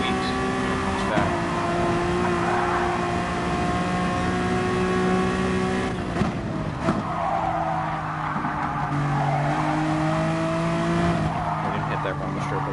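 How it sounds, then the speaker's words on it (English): Honda NSX GT3 race car in GT Sport, engine droning steadily with tonal revs, tire squeal and a brief rough juddering burst as it runs over a rumble strip, with talk over it. "That rumble strip was aggressive."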